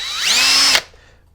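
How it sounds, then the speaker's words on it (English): A DeWalt power driver whines up to a steady high-pitched spin for under a second while backing out a skid plate screw on an Axial Wraith 1.9 RC crawler, then cuts off abruptly into quiet. "I'll drop the skid plate using my handy-dandy power driver."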